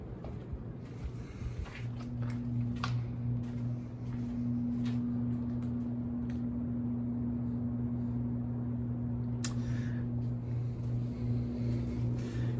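Several fans run steadily in the basement of a historic theatre and church youth center, a constant droning hum with strong low tones and airy rushing noise throughout.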